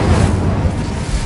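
The Incendio fire spell is cast in a Harry Potter video game, a loud, low whooshing burst of flame with a rumbling roar that sustains briefly, close and full.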